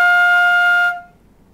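A single sustained flute note F, fingered with the long thumb key on the left hand, held steady and clear for close to a second, then cut off into near silence.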